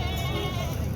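Full-size goats on a farm bleat close by, a loud, wavering, nasal cry that fills a short moment.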